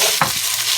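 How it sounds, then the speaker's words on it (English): Noodles for Indo-Chinese chow mein fry lightly in flavored oil in a pan, giving a soft steady sizzle with a brief stirring scrape, close and alone. "we're just still very lightly frying these noodles"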